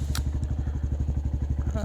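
A Honda Grom motorcycle engine idles at low RPM while still cold, a steady close chugging pulse of even thumps with slight mechanical clatter.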